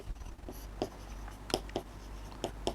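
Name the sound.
writing on paper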